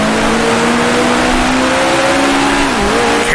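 A 1966 Formula One race car in the Grand Prix Legends game revving hard at high pitch, loud and close, with a quick downshift to second gear causing a sudden dip and recovery near the end.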